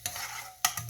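A spoon scrapes and stirs boiled rice in ghee in a pan, with short bursts of scraping and a faint sizzle in between.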